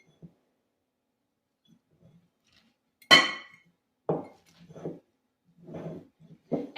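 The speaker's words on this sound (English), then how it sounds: "I'm going to pack this into a half-gallon glass jar." Shredded sauerkraut cabbage packed by hand into a half-gallon glass jar, a bright glassy clink followed by several soft, muffled thumps and rustles of pressing, spaced out with quiet gaps in between.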